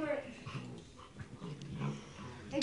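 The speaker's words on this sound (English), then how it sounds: "Oh, what a pretty puppy. She's a police dog." A female police dog whimpers and growls softly in short, faint whines and wheezy sounds, close by, with people talking quietly around her.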